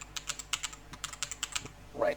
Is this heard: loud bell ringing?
no